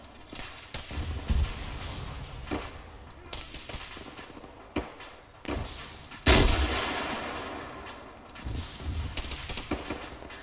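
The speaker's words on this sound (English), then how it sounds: "we're taking heavy RPG fire inside the town" Heavy RPG blasts and gunfire in a military video game, sharp booms and shots scattered irregularly with a big explosion partway through, over a rumbling battlefield background.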